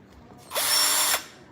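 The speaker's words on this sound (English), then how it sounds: "Why are we playing with power tools?" A child runs a power drill in a home, one loud whirring burst of just under a second that spins up, holds steady and cuts off sharply, close by over quiet room noise.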